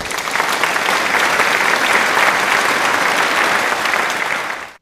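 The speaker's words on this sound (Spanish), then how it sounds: "Un aplauso para Sebas." Dense applause from a large crowd, loud and continuous, holding steady for several seconds before cutting off abruptly.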